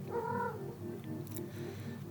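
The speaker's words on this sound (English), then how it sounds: "My cat wants to help." A pet cat gives a short, close vocal call at the start, followed by quiet room noise.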